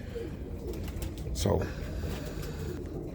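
Birmingham Roller pigeons coo softly at a steady low level, with a louder burst midway and someone speaking briefly over them.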